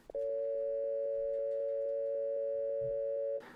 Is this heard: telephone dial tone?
yes